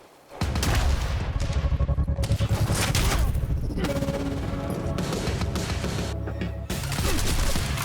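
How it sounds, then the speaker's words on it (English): Rapid carbine rifle fire in the video game Quantum Break, loud dense bursts of shots crackling almost nonstop, with a short lull near the end before the firing resumes. "Ooh, a carbine rifle. That sounds like fun."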